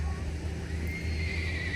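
A horse named Rio whinnies at an outdoor horse show on a hot, dusty day, a sustained neigh over a steady low background drone, moderately close.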